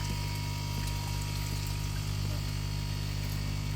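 Water drains out of a koi fry tank in a continuous pouring, gurgling flow, loud and steady, with a constant low pump-like hum running underneath.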